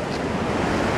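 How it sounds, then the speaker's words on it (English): Waves smash against coastal rocks in a continuous, fairly loud roar of surf and spray, broad and unbroken, with no talking. "the waves are smashing against the rocks"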